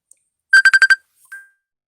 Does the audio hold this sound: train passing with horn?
no